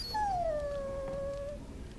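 A warhound in the Dragon Age: Origins video game lets out one drawn-out, high whining whimper that slides down and fades over about a second and a half, clear above quiet background noise.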